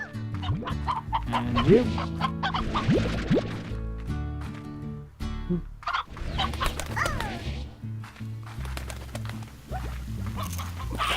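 Chickens cluck and squawk in the video game Slime Rancher, a busy, close burst of pitched clucks and calls layered over game sounds, with a brief spoken voice.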